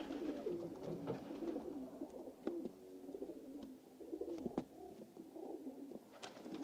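Pigeons coo softly and repeatedly nearby, low rolling calls in loose succession with faint ambient noise and no talking.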